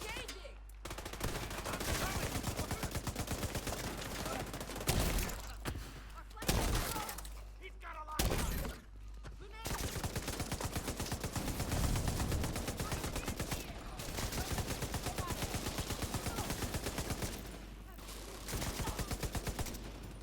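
Heavy gunfire from The Division 2 plays out as sustained rapid bursts with dense automatic fire and a few gaps of quieter game ambience.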